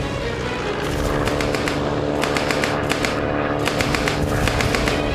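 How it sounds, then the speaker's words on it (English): A Lewis machine gun fires in a World War I ridge-top fight, its rapid bursts of shots rattling loudly in quick runs over a dense, continuous battle roar. "gunners Bowie and Evans also let rip with their Lewis machine gun"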